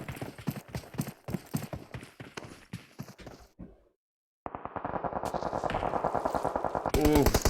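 Rapid bursts of automatic gunfire from an M249 light machine gun in the battle royale game PUBG Mobile during a competitive scrim match, a fast clattering volley, a short silence, then a dense sustained stretch of loud shots.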